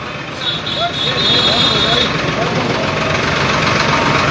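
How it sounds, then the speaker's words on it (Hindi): Farmers' tractors driving in a procession through Gharaunda behind a lead jeep, a steady low engine rumble that builds and holds, with a voice speaking over it. "इसके बाद जो ट्रैक्टर हैं वो चल रहे हैं"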